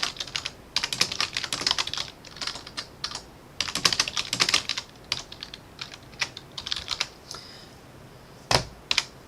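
Fingers tap quickly on a computer keyboard in irregular bursts of close, crisp clicks with short pauses and a louder keystroke near the end, no voices.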